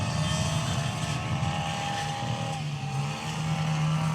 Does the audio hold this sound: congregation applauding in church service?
no